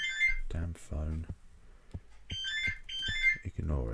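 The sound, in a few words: phone ringing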